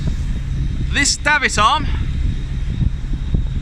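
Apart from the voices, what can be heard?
wind blowing across the microphone on a boat deck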